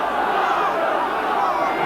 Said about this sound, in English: And we're hearing the Bradford Northern fans for a change.